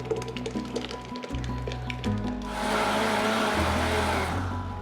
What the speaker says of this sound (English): To take this, we're gonna throw it in the blender.